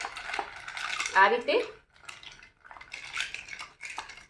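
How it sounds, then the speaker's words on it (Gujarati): A spoon stirs an orange mojito of sugar, black salt, lemon and mint in a glass, making close, bright clinks and scrapes in short bursts. Someone speaks briefly between the strokes. "ત્યારબાદ ફરીથી આપણે થોડું મિક્સ કરી દઈએ બધી વસ્તુને"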